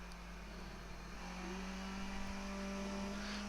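A Skip Barber race car engine downshifting at Donington Park in iRacing: a steady, close engine drone whose pitch shifts as the gear changes, with a faint tire noise underneath.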